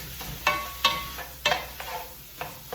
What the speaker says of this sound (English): you just kind of break the meat up with that, and you just want to cook your meat till it's fully browned